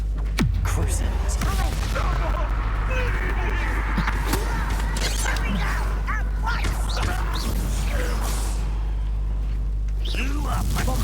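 Bombarda blasting spells explode in combat in the video game Hogwarts Legacy, loud bursts and crackling impacts over a constant low rumble and busy battle noise, with a voice talking throughout.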